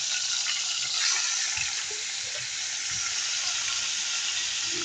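Chicken gizzards frying in very hot oil give a loud, steady, dense sizzle with a bright hiss that fills the whole stretch, with no voices over it.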